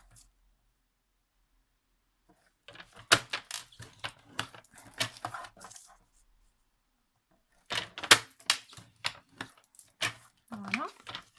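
Paper being creased and folded by hand for a paper craft album, giving two bursts of crisp rustling, sliding and tapping close up, separated by a quiet pause.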